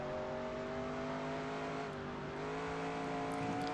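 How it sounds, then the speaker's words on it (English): A race car engine in the NASCAR Racing 2003 video game, a steady droning roar of a stock car holding a high rev, loud and continuous with a slight pitch shift as it approaches. "That 29 car is coming"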